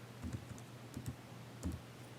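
A computer keyboard tapped at close range to type a brush preset name, a few soft, quiet clusters of keystrokes separated by short pauses.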